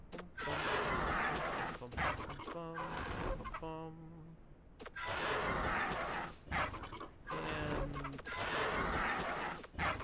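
A bird in the video game ARK gives a few short, throaty clucking calls in bursts, separated by brief gaps, with breathy, panting sounds in between, close and fairly quiet.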